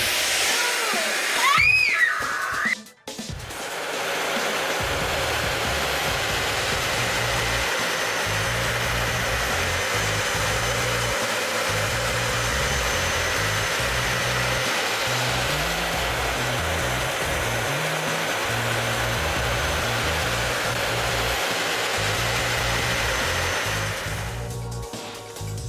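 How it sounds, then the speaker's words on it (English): A Dyson vacuum cleaner sucks up a cockroach, running loud and steady for a long stretch after a brief clatter of handling at the start, then cutting off near the end. "Have no fear. The Dyson is here. Let's suck this little guy up."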